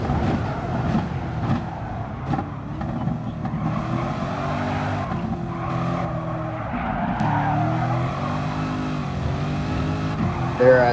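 A race car in Gran Turismo Sport revs and skids hard after the emergency brake is tapped, tires squealing as the engine note rises and falls, loud and close with no talking.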